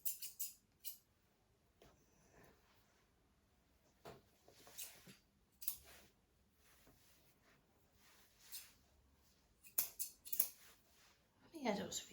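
Grooming scissors clipping a standard poodle's hair at the back of the head, a scattering of sharp close snips spaced irregularly across a quiet room, with soft movement noise and a brief rustle at the end.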